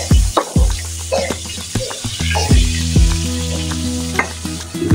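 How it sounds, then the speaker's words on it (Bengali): Bata fish sizzles and spatters in hot oil in a wok, a loud, steady frying hiss broken by repeated sharp scraping and stirring clatters, with no talking. "মাছটা ভাজা আমার হয়ে গেছে। এখন আমি উল্টে নেব।"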